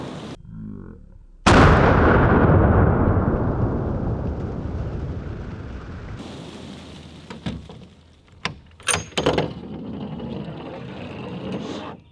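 A military surplus 50 BMG rifle fires a single shot outdoors, a sharp, very loud blast followed by a long rolling echo that fades over several seconds, then a few scattered thumps and clatters.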